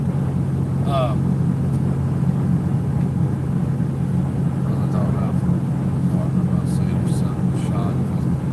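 An old, worn truck cruising slowly down a highway, a steady low engine and road rumble droning continuously throughout, with faint brief voice fragments above it.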